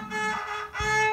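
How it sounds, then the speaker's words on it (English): A child bows the A string of a violin in two sustained notes, close and clear with rich overtones, nothing else audible. "So that's how the A string sounds like."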